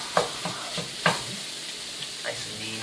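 Sausage for dirty rice sizzles in a pan while being stabbed and crumbled, with sharp scraping jabs of a utensil against the pan over steady frying hiss.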